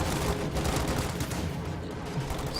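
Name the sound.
Thompson submachine gun fire in video game Company of Heroes 2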